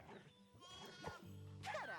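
A sheep in a video game bleats in several wavering, nasal cries, the last one louder and drawn out. Other game sounds play faintly underneath.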